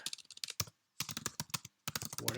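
Typing on a TI-99/4A computer keyboard, with close, quick bursts of clacking keystrokes broken by short pauses, with no voices.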